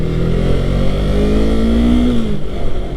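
A Yamaha MT-03 motorcycle engine hums steadily and loudly while riding, its pitch rising and falling gently as the throttle shifts, with wind noise underneath and no talk.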